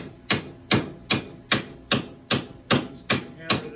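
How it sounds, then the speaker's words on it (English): Eight evenly spaced sharp metallic hammer blows ring out about every half second, striking an aluminum aquarium brace clamped in a vise, each hit close and loud with a short decaying ring. "Hammer this out."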